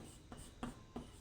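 Pen strokes scratching across paper in a few short bursts, close and quiet, with a soft rasp on each stroke and no talking.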